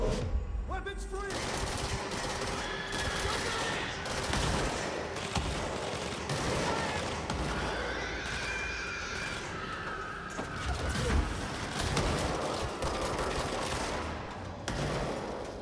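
Gunfire in the video game Control: dense, rapid bursts of shots crackle continuously amid explosions and busy combat noise, with voices speaking intermittently beneath the action.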